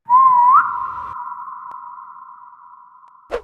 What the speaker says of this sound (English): we'll head into the uncharted areas to whistle